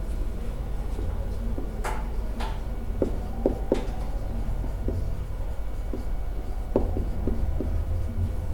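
Marker or chalk writing on a board during a factored-form algebra lesson, a soft scratchy scraping with short stroke taps scattered across the stretch under steady room noise.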